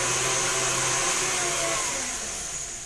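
An electric mixer beating cupcake batter for s'mores cupcakes, a steady close whirring motor drone that holds level and eases slightly toward the end, with no talking.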